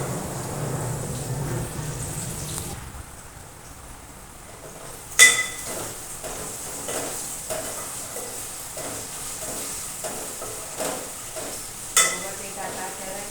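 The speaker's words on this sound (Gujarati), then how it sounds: "બટેટાને આપણે તેલમાં બરાબર સાંતળી લઈશું, જેથી કરીને બટેટા સારી રીતે ચડી જાય." Potatoes sautéing in hot oil in a home kitchen pan, a steady sizzle broken by a few sharp clinks and scrapes of a stirring spoon against the pan, close and fairly loud, with no talking.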